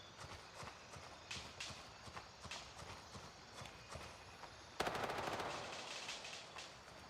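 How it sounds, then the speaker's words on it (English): Suppressed weapon fire in the military shooter Gray Zone Warfare, a run of quick muffled shots in uneven bursts, followed by a louder, denser burst of rapid firing near the end, with no voices. "That's him firing the suppressed weapon"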